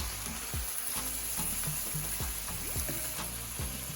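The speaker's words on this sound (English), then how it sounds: "So just fold everything together gently." Ackee and saltfish sizzle in a frying pan while being gently folded, with a steady quiet fry hiss and repeated soft spoon scrapes and taps, no voices.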